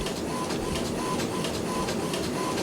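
A printer runs steadily indoors, a continuous mechanical whir with faint rhythmic shuffling pulses, moderately loud and alone with no talk over it.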